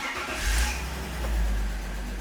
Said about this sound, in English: The next step to get the transmission up to temperature is we're gonna fire up the car.